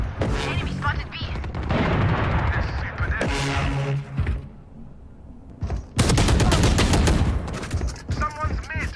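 Loud, rapid bursts of gunfire from the Valorant video game crackle in quick succession, with a short lull midway before another dense volley of shots and impacts.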